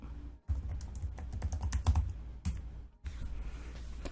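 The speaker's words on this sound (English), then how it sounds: "Let me just type this out." Typing on a computer keyboard, a close run of rapid key clicks in quick bursts, with a few short pauses between them.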